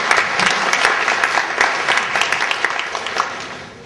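An audience at an education summit claps steadily to welcome a speaker, dense and close applause that holds for several seconds before tapering off.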